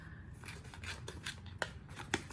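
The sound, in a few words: scissors cutting a face mask packet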